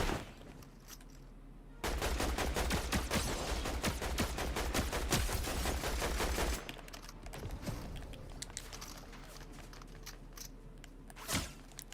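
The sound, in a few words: gunfire in a video game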